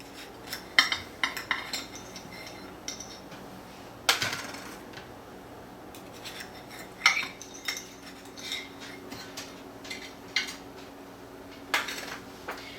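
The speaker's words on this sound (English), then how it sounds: "and then we're going to depan them." Blue cheese and leek tartlets being depanned: sharp metallic clinks and clatters of a tin pan and utensils come in scattered bursts, close and fairly loud over a quiet kitchen background, with no talking.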